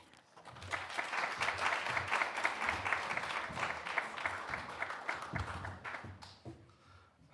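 An audience at a guest faculty lecture claps to welcome the speaker, a dense burst of applause from a roomful of people that lasts several seconds and then thins out and fades.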